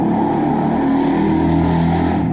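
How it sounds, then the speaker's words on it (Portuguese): Loud engine roar from a motorcycle going by outside, a steady rumble filling the whole stretch with no voice over it. "tem sempre alguma moto exagerada por aqui, às vezes algum carro"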